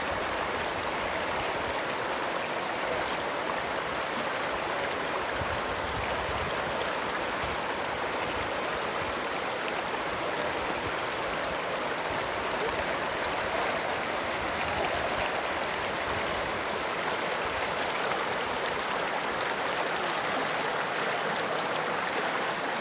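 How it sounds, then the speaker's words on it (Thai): A clear, cool stream flows at Huay Nam Khiao in Xaisomboun, Laos, giving a steady, full rush of water that holds evenly throughout, close and fairly loud, with no voices. "ห้วยน้ำใสเย็นดี"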